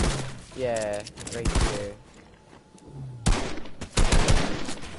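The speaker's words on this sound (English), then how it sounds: "I just started getting shot at" Gunfire crackles in a video game arena match, bursts of shots mixed with game effects while a player talks over the action.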